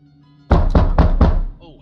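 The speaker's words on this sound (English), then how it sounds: "Knock, knock, knock." Four loud, evenly spaced knocks on a door in the horror game Room 713, thudding and echoing in a quiet hallway, with a low hum beneath and a faint voice-like murmur at the end.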